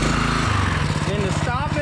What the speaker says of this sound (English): I'm gonna turn it in gear. Motor starts spinning.